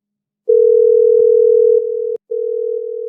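A telephone line tone on a sports call-in radio show: a loud, steady, pure hum that starts after a brief silence, drops slightly in level, cuts out for a moment, then resumes.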